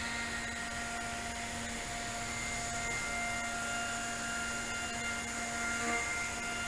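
A CNC machine in a lean machine shop traces around a plastic part to trim away excess material, giving a steady, continuous whine and hiss of cutting that holds even and loud throughout with no talk.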